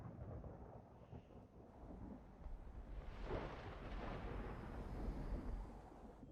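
A deep, rolling rumble of thunder from red lightning in an animated series swells and lingers through the scene, a dense low roar building to a broad crash midway before sustaining.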